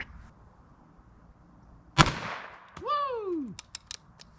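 A sharp rifle shot cracks out against a target can of expired food, followed by a ringing, descending metallic whine as the can is hit, then several short sharp clicks and pings, close and loud outdoors.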